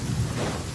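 A short stretch of Genshin Impact storm ambience, dense rain noise under a low rumbling of thunder, moderately loud and continuous, without voices.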